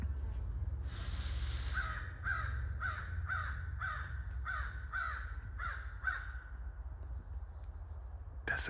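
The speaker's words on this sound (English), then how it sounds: "That's a crow." A crow caws about nine times in an evenly spaced series, moderately near, over a steady low rumble of outdoor background noise.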